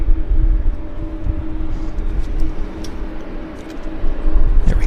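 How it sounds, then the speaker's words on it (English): A Boeing 777 taxis at Vancouver Airport, giving off a steady low engine rumble and whine that stays loud and constant at a distance, with no voices over it. "we've got a 777 taxiing out there from the Horseshoe"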